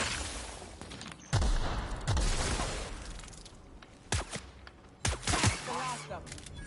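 Several sharp gunshot bursts from a firefight in The Outer Worlds, a video game, loud and clustered in quick volleys over a steady background.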